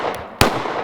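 One sharp, loud report from an FN Five-seven pistol fired at bulletproof glass, preceded by a faint snap and trailed by a brief wash of echo.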